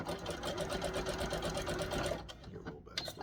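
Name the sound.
sewing machine backstitching elastic on wrestling tights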